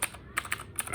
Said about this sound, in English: Cherry MX Blue Edition. So it's very clicky